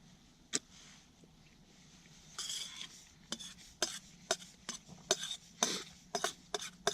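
A new camping pot set being handled, with a quiet run of metallic clinks, scrapes and taps that grows busier toward the end, close by and with no talking.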